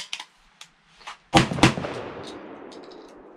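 A Charles Daly 601 DPS semi-automatic shotgun fires Federal 1 ounce number 6 heavy field loads, two loud close blasts in quick succession that ring out into a fading echo, with a few lighter clicks before them.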